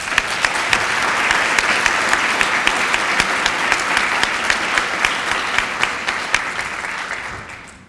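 An audience at a convention awards dinner applauds a speaker being welcomed, steady dense clapping with sharp individual claps standing out, sustained and close, fading away at the end.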